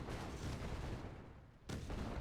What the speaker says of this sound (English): Cannon! Big cannon out!